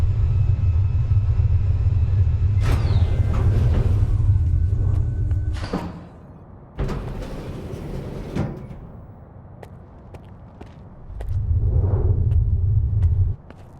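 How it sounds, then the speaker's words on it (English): Low, heavy storm rumble in STALKER 2, rolling in long swells with a sharp crack-like burst in the middle and quieter gaps between, no voices. "There's a storm going on right now."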